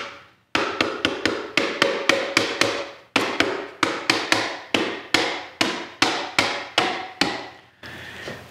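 Tight wooden rabbet joints in a woodshop being knocked apart with a hammer: about seventeen sharp, ringing blows in a steady, fairly quick rhythm, each decaying briefly, close and loud with no talk.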